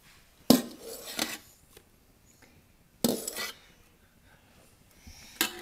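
A utensil scrapes and clinks against a bowl while whipped egg whites are folded into melted chocolate, three distinct clattering strokes separated by pauses, close and fairly loud in a quiet kitchen.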